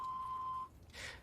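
A phone voicemail system gives a single steady electronic beep lasting just over half a second. A faint hiss follows.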